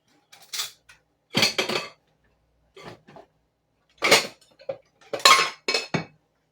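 A little spoon clinks and scrapes against a dish while scooping hot apple crumble, with several short bursts of clatter separated by brief pauses, close and fairly loud.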